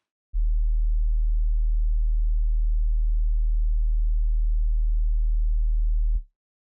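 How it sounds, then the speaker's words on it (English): A pure sine tone at the note E, 40 hertz, holds as one steady deep hum for about six seconds and then stops cleanly. "So if I play a sine wave at E,"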